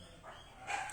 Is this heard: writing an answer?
no